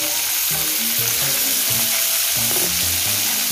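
Longganisa sausages fry in a lot of oil, giving a loud, dense, continuous sizzle and crackle that fills the whole stretch with no one talking.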